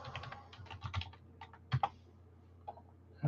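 Computer keyboard typing, a loose run of quick plastic key clicks at close range with a few heavier keystrokes and short pauses, no voices.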